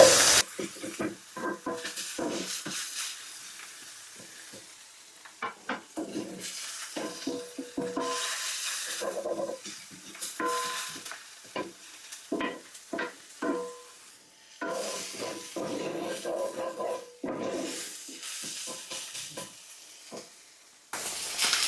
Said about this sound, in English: We're going to go ahead and add the garlic pot until we can start smelling the aroma of the garlic